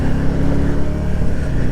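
Can-Am Spyder three-wheel motorcycle on the road, captured by a GoPro: a loud, steady engine drone with low rumble and rushing wind noise, continuous and close.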